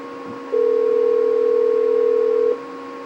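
A single steady electronic ringback tone of an outgoing telephone call, loud and held for about two seconds before cutting off, with a faint hum before and after.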